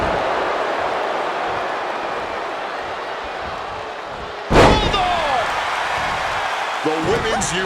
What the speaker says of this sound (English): Slammed down with cruel intentions.